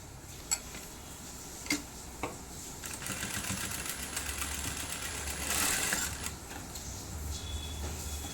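A sewing machine stitches the folded neck edge of a boat-neck blouse, running in a steady mechanical whir with soft ticking clicks and a louder burst near the end, close and alone with no talk.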